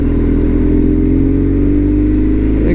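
A BMW R1200 GS motorcycle being ridden, loaded for a long road trip, giving a loud, steady engine drone with a low boxer-twin throb and wind rush, heard close from the rider's position with no talk.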